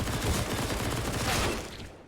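Rapid automatic gunfire sprays back and forth during a messy exchange in a competitive tactical shooter video game match, dense and continuous for about two seconds before tailing off.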